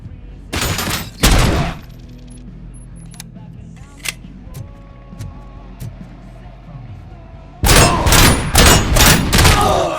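Bursts of gunfire in the RoboCop: Rogue City video game, a loud volley at the start and a heavier rapid string of shots at the end, with a quieter stretch of thuds and game sounds between.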